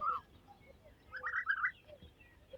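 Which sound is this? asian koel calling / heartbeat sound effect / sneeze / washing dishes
asian koel calling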